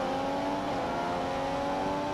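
A Mercedes Formula 1 car in the racing game F1 2015 holds a steady high engine whine at sustained revs, a constant tonal drone with no break, moderately loud and heard alone.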